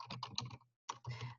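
Typing on a computer keyboard: two quick bursts of close, crisp key clicks separated by a short pause, quiet and with no one talking.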